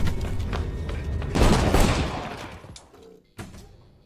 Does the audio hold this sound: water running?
no